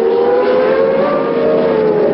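USAC/CART Championship race cars at Brands Hatch in 1978: a loud, sustained high-pitched engine drone that holds at full throttle and slowly shifts in pitch as the cars run on through the lap.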